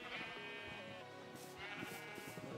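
Sheep bleat in a video game, with several overlapping, wavering bleats, fairly quiet and steady over a soft background bed, with no talk.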